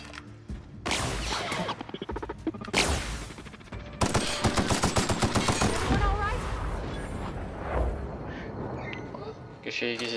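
An assault rifle in The Outer Worlds fires in rapid automatic bursts with sharp repeated cracks, loud and close amid game effects, with a voice talking over the shooting.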